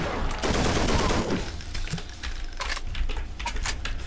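Rapid MG 42 machine gun fire from the Wolfenstein game, played in the Brutal Wolfenstein mod of Escape From Castle Wolfenstein: a loud, continuous burst at first that breaks into sparser sharp shots and clinks, with no talk over it.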